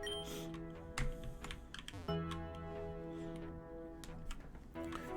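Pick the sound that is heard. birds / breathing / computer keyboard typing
computer keyboard typing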